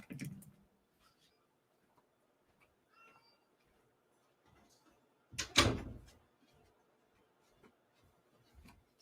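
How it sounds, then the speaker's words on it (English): A room door shuts with one solid thump, close by, among faint shuffling and small handling noises in an otherwise quiet space. "I got to shut my door"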